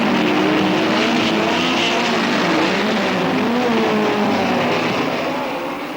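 A field of 22 racing cars roars away from the start at the Nürburgring, a dense, loud wall of engine noise with revving, overlapping tones that begins to fade slightly near the end.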